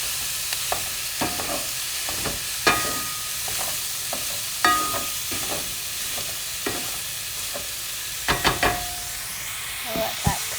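Ground turkey sizzles in a frying pan while a mix-and-chop tool scrapes and clacks through it in irregular, close bursts over a steady frying hiss.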